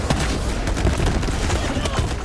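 An incendiary shotgun fires repeatedly in Borderlands 3, a loud, dense burst of booming shots and crackling impacts filling a couple of seconds, with a voice talking underneath.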